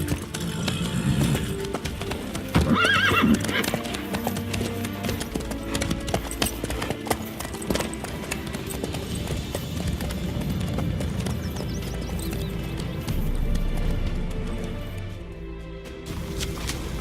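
Horse hooves clip-clop in The Witcher 3, a steady rhythmic stream of hoofbeats through the whole stretch with a brief neigh early on, under a faint game background.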